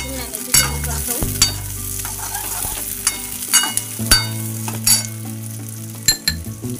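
Capsicum and onion stir-fried in a pan for Indian-style manchurian, with a steady loud sizzle, repeated scrapes and clinks of a spatula against the pan, and short bursts of stirring throughout.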